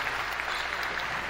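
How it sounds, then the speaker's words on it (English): Crowd applauding at a men's college basketball game, a brief, steady burst of clapping filling the gym at moderate loudness, heard alone. "Wanda Williams getting another round of applause here from the crowd"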